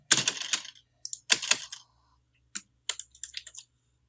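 Keys on a computer keyboard pressed in quick clattering bursts, a cluster of rapid clicks, a pause, then scattered single and double taps, close and crisp against near silence.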